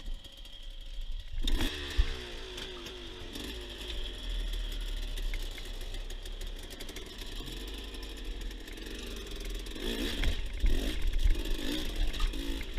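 An enduro motorcycle climbs the last uphill stretch of a hard mountain section, its engine droning and revving unevenly as the throttle opens and eases, with a strong surge near the start and another burst toward the end.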